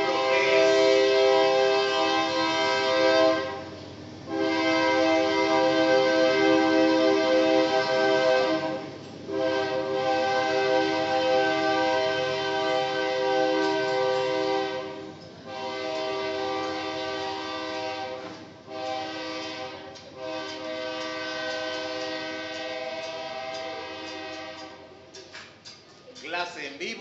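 Train passing nearby with its horn blaring in long, loud blasts separated by brief gaps, rumbling wheels beneath.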